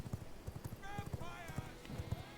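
Horse hooves clip-clopping in a steady galloping rhythm in the vampire survival game V Rising, with a horse whinny partway through and game sounds underneath.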